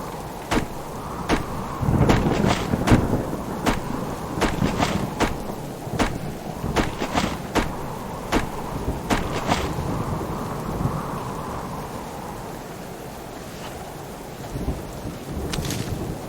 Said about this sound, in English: the storm is very loud